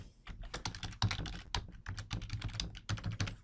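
Someone types an event title on a computer keyboard, a quick, uneven burst of close, crisp key clicks with short pauses and no talking.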